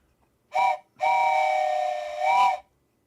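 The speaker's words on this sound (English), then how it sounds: "A train whistle for your hellish points." Train whistle in OpenTTD: a short toot followed by a long sustained steam whistle blast, loud and close, with a rising pitch bend at the end.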